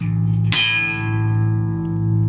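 A sustained, distorted bass guitar tone on the open A string rings steadily, with a fresh octave note plucked partway through that blooms brightly and then settles into a long, even hum.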